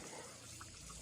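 Water splashing and trickling steadily over a horse during a bath, a continuous soft wet wash with no talk.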